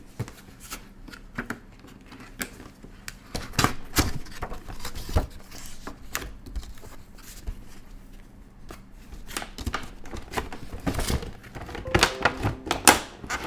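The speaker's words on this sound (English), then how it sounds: "Just use my box cutter to get rid of this tape." A box cutter slicing through packaging tape on a boxed figure, heard up close as scattered crisp cuts, scrapes and rustling clicks in irregular bursts with short pauses between them.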